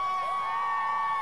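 An audience at a talk on activism and allyship cheers and whoops, a brief, steady swell of many voices with high shouts mixed in.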